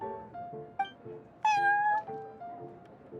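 A cat in Genshin Impact meows a few times over soft background music: a short mew, then a longer, louder drawn-out meow in the middle.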